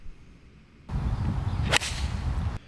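A golf club strikes a ball on a windy 240-yard par three at Cog Hill, a single sharp, close crack standing out over steady outdoor wind noise.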